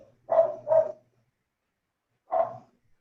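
Dog barking during an online meeting: two quick barks close together, a pause, then a single bark, fairly loud and near, with no talking over them.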